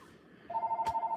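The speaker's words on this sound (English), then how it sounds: "Sorry, the phone's ringing in the background, guys." A telephone rings in the background of a house, a steady electronic ring tone that pulses in quick repeated bursts after a brief quiet start.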